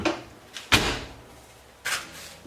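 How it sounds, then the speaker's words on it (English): A pop-up camper's half door slides into its channel, heard as a short scraping slide followed by a sharper knock and a second brief slide-and-bump, close and fairly quiet. "Here's the half door. Just slides right into the channel."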